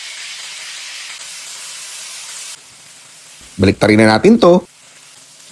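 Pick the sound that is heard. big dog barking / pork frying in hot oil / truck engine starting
pork frying in hot oil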